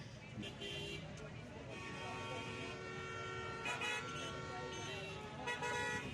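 Busy road traffic at the Faizabad transport hub in Islamabad, with steady engine rumble and short car horn toots repeating at close to middle distance, while voices are heard underneath.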